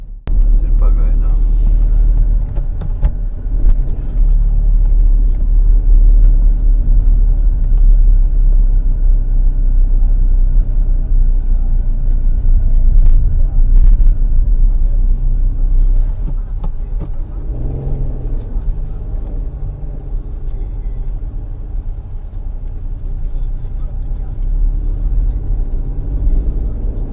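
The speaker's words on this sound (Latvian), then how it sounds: "Braucam ar mašīnu. Lēnām." A car rolls slowly along a mountain road in Italy, a heavy low rumble of engine and tires filling the cabin continuously while people talk inside.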